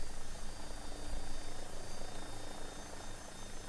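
A steady, dense rotor and turbine roar of an AW-109 helicopter in a flight simulator runs continuously at moderate level, broadband and unchanging, with no talk.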